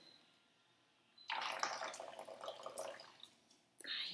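Freshly boiled hot water poured into a baby bottle, a steady trickling pour lasting a couple of seconds, then a brief splash near the end, close and fairly soft.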